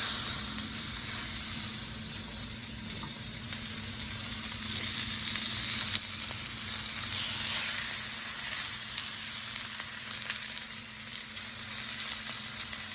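A sous vide steak sears in a cast iron pan at the office, a loud, continuous close sizzle and hiss of frying that holds steady throughout with faint scraping underneath.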